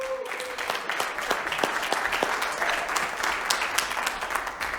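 An audience at a church applauds steadily, many hands clapping in a dense, even patter that fills the room at moderate loudness for several seconds.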